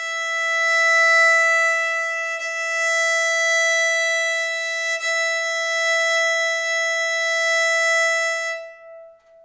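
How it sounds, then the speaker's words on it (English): A violin's E string bowed open as a tuning reference: one steady, bright, sustained pitch held for about nine seconds at even loudness, alone, then fading out. "which is called the E string, and that should sound like this"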